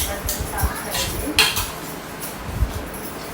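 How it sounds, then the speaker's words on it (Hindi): Dishes, pots and cutlery clink in scattered, uneven knocks during a home wash-up, with running-water hiss underneath and a faint voice nearby. "हमने बर्तन साफ करेंगे।"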